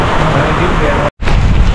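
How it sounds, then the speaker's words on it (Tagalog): Typhoon Paulo's wind and heavy rain lash a vegetable farm growing upo, okra and sitaw, a loud, dense, continuous roar with a brief dropout near the middle. "Damdam na dito ang hagupit ng bagyo"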